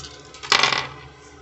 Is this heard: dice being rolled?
yes